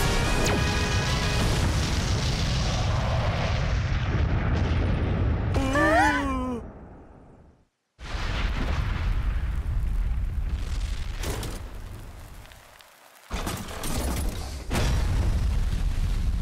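A bomb blast in the Go Go Dino cartoon: a long, loud rumbling explosion with a rising whistle-like sweep partway through, a sudden dropout, then renewed roaring bursts, with no speech.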